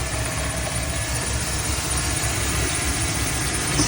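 A car engine, the one on a pink 240 just after its check engine light came on, runs steadily at idle with a constant low rumble and vibration, close and even throughout.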